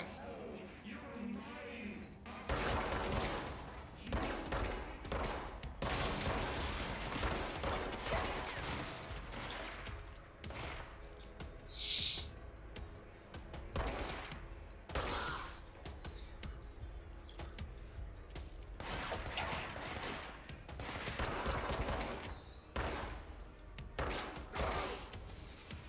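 Gunfire in the video game Control, with bursts of rapid shots and scattered single blasts spread across the clip, mixed with impacts and mechanical clatter, while someone talks over much of it.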